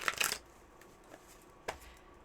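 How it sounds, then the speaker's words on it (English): Tarot cards shuffled in a brief riffling burst up close, followed by a couple of faint taps and a soft snap of the deck settling. "Let me shuffle these"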